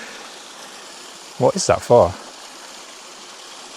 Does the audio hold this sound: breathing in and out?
no